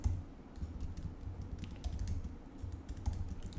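Steady run of keystrokes on a computer keyboard while title text is typed, quick and continuous with no talking.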